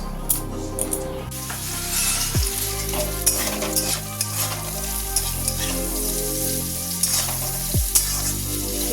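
Food frying and being stirred in a pan in a home kitchen: a steady close sizzle broken by scraping stirs, with a tonal hum running underneath.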